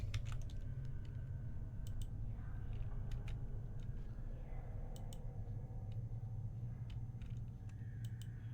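Computer keyboard arrow keys tapped while playing Planescape: Torment, faint clusters of quick clicks in irregular bursts over a low background rumble.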